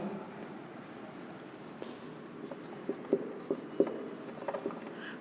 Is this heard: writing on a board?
yes